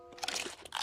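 Crunchy chewing of food during a hurried meal in a cartoon, a quick series of close, brittle bites and crinkly munches lasting under a second, with no talking.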